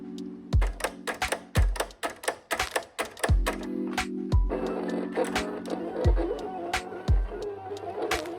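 A home vinyl cutter slices vinyl stickers, its carriage moving in a series of sharp clacks and taps with rhythmic mechanical thumps about once per second, close and steady.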